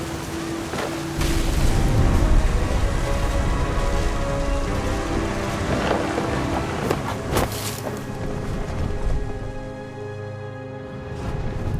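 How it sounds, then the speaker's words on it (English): Steady rain pours across a stormy scene in the video game What Remains of Edith Finch, a broad continuous hiss with scattered louder bursts and faint low rumbles, loud and fairly even throughout. "The thunder sounded much too close and full of angry power"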